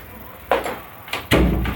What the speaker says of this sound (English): I forgot to close the door again